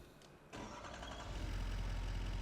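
A truck engine in Farming Simulator 25 cranks and catches after a quiet moment, then settles into a steady low idle rumble that grows slightly fuller.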